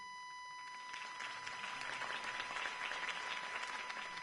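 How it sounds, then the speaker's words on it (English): Crowd applause at a political rally in the Batman Telltale game, a steady wash of many hands clapping at moderate distance, holding evenly throughout with a faint tone beneath. "could have heard that applause"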